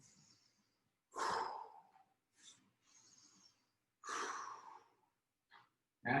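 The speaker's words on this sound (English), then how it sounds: "Take a few more deep breaths in and out" Slow, deep breaths held during a plank exercise: a few long inhales and exhales spaced a second or two apart, close and fairly quiet, with brief pauses between them.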